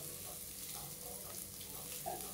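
Onion and potato pieces frying in a pan over a low gas flame while making a mixed vegetable curry, giving a steady soft sizzle that stays close and even for about two seconds, with no voices.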